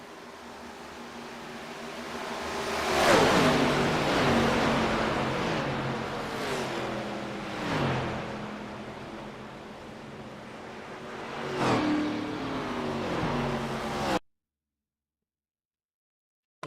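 Stock cars race in a pack at Daytona in a racing game, with a steady engine roar and several whooshing pass-bys swelling and fading before the sound cuts to silence.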